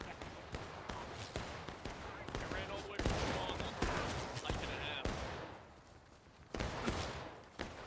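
Rifle shots at an outdoor shooting range, a rapid series of sharp, loud cracks, some overlapping, with no voices between them.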